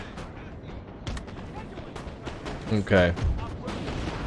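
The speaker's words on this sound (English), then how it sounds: "there goes the artillery" Napoleonic-era artillery fire in Napoleon: Total War, a British coalition campaign battle: dense, continuous rumble of cannon and musket-like reports with a heavier boom near the middle, while someone speaks briefly over it.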